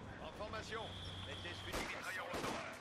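A unit in the strategy video game Company of Heroes 2 fires into uneven ground, with gunshots and artillery blasts, a sharp burst midway, over battlefield din while someone talks.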